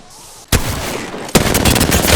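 Gunfire in Apex Legends erupts in loud, dense bursts at close range, a rapid volley and then a second sustained stream of shots, with no talking.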